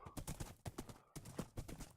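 A horse's hooves clop in an uneven trotting rhythm in the Minecraft modpack Magic Farm 2. The steps are faint and close, with no talk over them.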